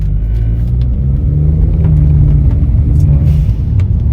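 Modified VW Polo GT TSI fitted with a blow-off valve, heard from inside on a drive: a loud, steady, deep engine drone that swells slightly mid-way, with no talking.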